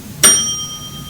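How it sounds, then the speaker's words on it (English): A single bright bell ding struck by a quiz contestant at a geography bee, sharp onset with a clear ringing tone that fades over about a second in a quiet room. "You ready to ring the bell?"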